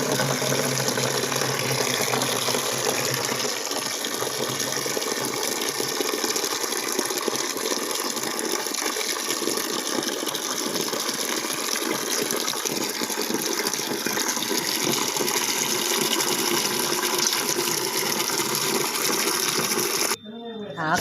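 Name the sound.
washing leafy greens in water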